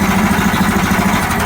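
A tractor engine running steadily on a new, higher-cranking-amp battery, a loud close mechanical drone with a pulsing low rumble throughout.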